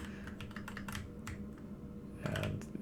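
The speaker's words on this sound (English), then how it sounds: "I move with the arrow keys." Computer keyboard keys, the arrow keys, tapped in quick irregular clusters while steering an asteroids-style game, close and clear, with a denser burst of presses near the end.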